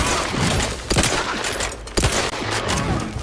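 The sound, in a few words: sniper gunfire in the video game The Outer Worlds 2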